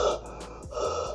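A human voice imitates Darth Vader's helmet breathing, a close, hissing intake followed by a raspy exhale, heard once and alone.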